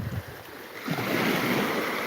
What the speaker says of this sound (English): these waves come in just before they break